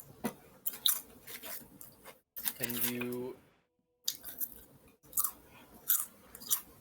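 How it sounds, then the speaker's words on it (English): A participant on an online call chews crunchy food with close, irregular crunching bites scattered through the clip, while people talk and a brief tonal voice passage sits in the middle. "Who the hell is crunching?"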